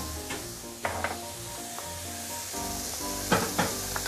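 Ginger and salted black beans sauté in a hot pan with a steady, close sizzle and hiss, punctuated by occasional louder bursts and spatula scrapes as the pan is stirred.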